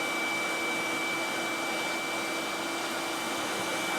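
A GEREFET pet grooming vacuum and dryer runs steadily while a cat is groomed, giving an even, loud, close whooshing whine with no break.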